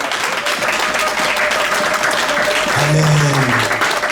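A church congregation at a French-language Sunday service applauds with dense, steady, loud clapping throughout, while a voice speaks over it and a brief held vocal tone rises near the end.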